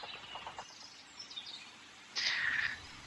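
Forest ambience in the Achtung! Operation Overlord role-playing game, with a soft airy background and scattered faint bird twitters, then a brighter, louder bird call near the end; no voices.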